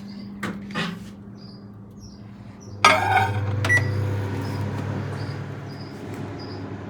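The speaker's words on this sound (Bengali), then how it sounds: "ভাতটাকে একটু গরম করে ওভেন করে নিই।" A microwave oven heating rice gives a steady low hum after a couple of sharp clicks and a door thud, with faint beeps scattered throughout.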